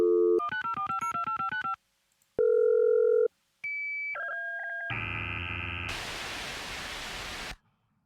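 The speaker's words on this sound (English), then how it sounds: "That modem noise is hilariously foreshortened from how long it actually used to take" A dial-up modem connecting in the game Last Call BBS: a dial tone, rapid touch-tone digits, then screeching handshake tones and a burst of rushing static before cutting off.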